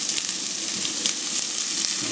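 Onions sizzling in about a tablespoon of oil in a pan for Chinese-style chicken fried rice, a steady close crackle of frying with small pops throughout and no talking.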